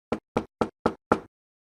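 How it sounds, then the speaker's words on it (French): A door is knocked five times in a steady, evenly spaced rhythm, each knock sharp and close. It is Little Red Riding Hood rapping at her grandmother's door in a French fairy tale narration, with no voices over it. "vint heurter la porte"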